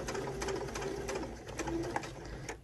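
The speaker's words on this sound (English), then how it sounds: "we're just stitching along the edge right here where we folded these over" A sewing machine runs steadily as it stitches close along a folded-over fabric edge, its rapid mechanical chatter continuous and close, with faint tonal whirring underneath and no talking.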